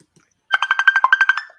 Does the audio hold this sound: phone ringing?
yes